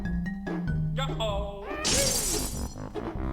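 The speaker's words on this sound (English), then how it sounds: "Breaks the glass" Glass shatters in the Banjo-Kazooie video game: a single bright crash with ringing shards, set among short game sound effects and musical tones.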